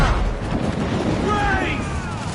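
Ship cannons fire during a naval battle in Assassin's Creed 4: Black Flag, dull booms rolling over a busy mix of battle noise with shouted voices over it.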